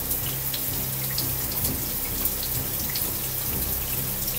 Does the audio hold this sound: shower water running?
yes